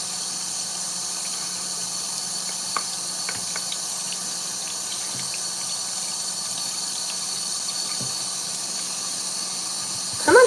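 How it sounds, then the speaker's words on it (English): Hot water running from a tap into a sink, a steady loud hissing stream that carries on unbroken, with a few faint clinks and knocks in the background near the end. "Come on, hot water, do your job."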